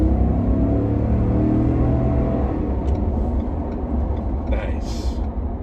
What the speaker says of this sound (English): Little wheel spin there.